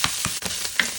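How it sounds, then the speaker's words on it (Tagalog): Garlic sizzling and frying in a pan with butter, a steady bright crackle broken by a few scraping stir strokes, close and loud with no talking. "So, lagay natin ang ahos. Garlic. Brown na ang ahos."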